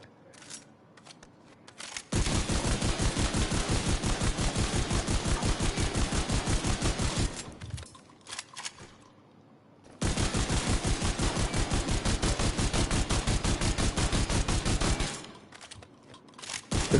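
A shotgun fires in The Division 2 video game in two long rapid bursts of dense, evenly spaced blasts, with a short pause between them and no voices.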